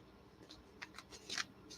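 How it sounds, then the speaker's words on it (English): Tarot cards are shuffled by hand, producing faint, quick papery riffles and flicks that build to a slightly louder burst near the end in a quiet room. "Now I'm giving this a good shuffle"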